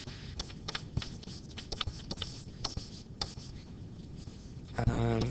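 Pen or marker scratching out a chemical equation, quick irregular strokes and taps close up, with brief faint talk near the end.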